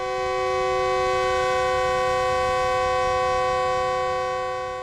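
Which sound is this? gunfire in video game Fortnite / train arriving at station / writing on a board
train arriving at station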